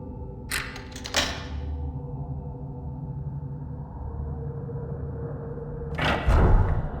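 A crimson butterfly door opening in Fatal Frame 3, with a couple of sharp clunks at the start, a long low sustained rumbling drone, then a heavier thud and rattle near the end.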